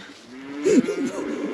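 Cows low nearby in a field at a wild campsite, a drawn-out rising moo with a second bellow following, close and fairly loud over an open outdoor background.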